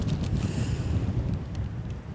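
Strong Storm Darragh wind at Newcastle Airport, a steady, loud rumbling roar buffeting the microphone with gusting low-end turbulence throughout and no talking.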